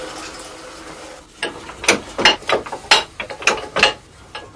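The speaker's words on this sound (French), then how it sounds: "Ce pressoir à cliquet est l'un des plus anciens." An old wooden ratchet wine press is worked by hand, its pawl clacking in a rapid, uneven series of sharp metallic clicks, close and loud, with no talk.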